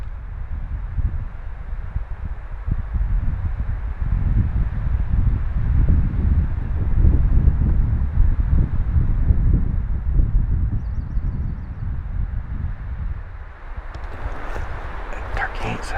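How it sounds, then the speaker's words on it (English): Wind blows outdoors on a turkey hunt, a steady low roar and buffeting against the microphone that swells and eases, with faint bird calls and a few rustles near the end. "listen to the wind blow"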